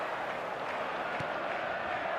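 A stadium crowd in a FIFA football video game on match day, a steady, distant roar of cheering and clapping that holds evenly with no voices standing out.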